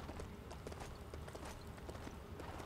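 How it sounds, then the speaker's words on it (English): Horse hooves clip-clop at a steady walking pace in Lego Worlds, the clopping fairly close against a constant busy background hum, with no talk over it. "I guess we'll ride this horse."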